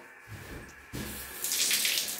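A bathroom shower is turned on and runs, a steady close rush that swells louder and hissier partway through. No voices are heard.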